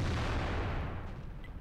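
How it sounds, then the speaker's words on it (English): A tank cannon shot in World of Tanks, one heavy low boom that fades over a second and a half, heard alone. "there's a lot of our tanks are shooting at it and bouncing off it"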